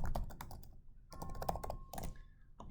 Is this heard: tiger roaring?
no